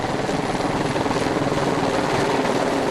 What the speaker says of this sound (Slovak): Preto vrtuľník nelieta k chate Steineres Hütl na prázdno, ale využíva každý let nahor na dovoz dreva na kúrenie.